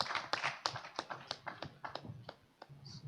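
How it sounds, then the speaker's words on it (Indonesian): Applause for three debate finalists at a youth debate competition final: a short run of scattered, fairly close hand claps, uneven in rhythm and thinning out rather than a full crowd roar. "Kita beri aplaus untuk ketiga finalis di depan"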